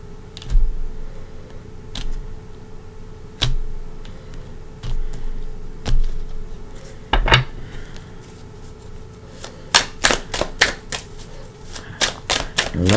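Tarot card deck being cut and shuffled close by: soft scattered taps and slides early, then a rapid run of crisp riffling snaps near the end.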